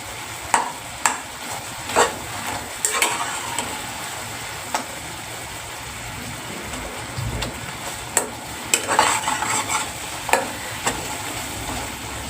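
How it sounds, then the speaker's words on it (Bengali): Olive pickle frying in oil in a pan, stirred repeatedly, gives a steady sizzle broken by sharp scraping and clinking strokes of the spoon against the pan. "আমি বারবার একটু নাড়াচাড়া করে দিচ্ছি, আর আপনারাও কিন্তু এই কাজটা করবেন। তেল ছাড়তে অলরেডি শুরু করে দিয়েছে"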